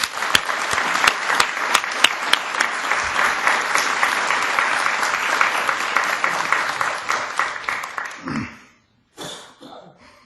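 A lecture hall audience in Michigan applauds to welcome lecturer Michael Olivas, a loud, sustained burst of clapping that fades out after about eight seconds, followed by a few scattered sounds.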